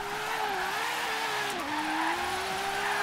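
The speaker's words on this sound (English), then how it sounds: "use a Ferrari 599XX to do drifting with it" Sustained tire squeal from a Ferrari 599XX drifting in Forza Horizon 3, a continuous wavering screech over a steady engine drone, loud and close throughout.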